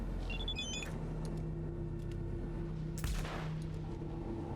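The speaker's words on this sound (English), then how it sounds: "They're gonna shoot me" Gunfire from police in Cyberpunk 2077: a couple of faint, muffled shots over a steady ambient hum and electronic beeps, with one sharper burst partway through.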